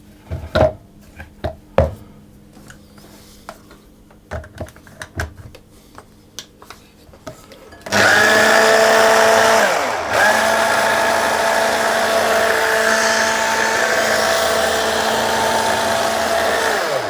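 A food processor pulses flour and icing sugar: scattered clicks and taps while the bowl is loaded, then a loud, steady motor whir runs for about nine seconds with a brief dip partway.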